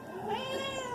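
Tails, a pet cat with a poofy tail, gives one drawn-out meow at feeding time, close and fairly soft, with no one talking over it.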